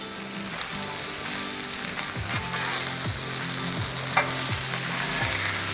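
Sausages fry on a Blackstone griddle with a constant loud sizzle and crackle, close up, while a spatula scrapes and taps the metal surface every second or so, with no talking.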